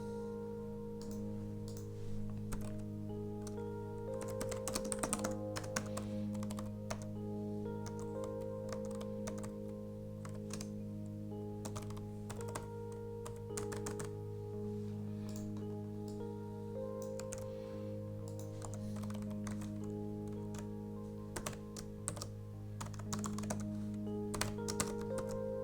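Someone types steadily on a computer keyboard, with bursts of close, crisp key clicks over a constant low electrical hum. No voices are heard.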